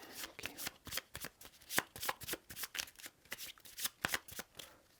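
A deck of game cards being riffled and shuffled during a Shadows of Brimstone tabletop session, giving a quick run of soft, crisp flutters and taps at a fairly low level close by.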